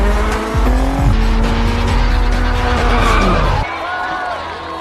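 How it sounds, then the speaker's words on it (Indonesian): A race car drifts with loud, sustained tire squeal and a revving engine. The squeal slides through rising and falling pitches, then cuts off abruptly near the end, leaving a quieter rumble. "Dia mampu melakukan teknik ngedrift dengan sangat baik"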